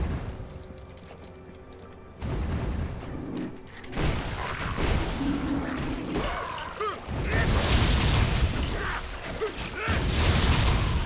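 Weapon fire in the video game Torchlight 2: loud bursts of booming, crackling shots and mechanical clanks against game music and effects, repeated over several seconds, with someone talking at times.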